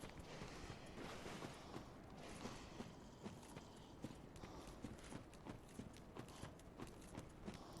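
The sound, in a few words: footsteps behind the player in Dark Souls 3 video game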